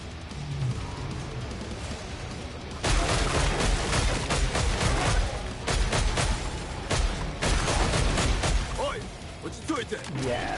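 Gunfire from a gun in Killing Floor 3, heavy bursts of loud, dense shooting in several clusters under a steady game soundscape, with someone talking over parts of it.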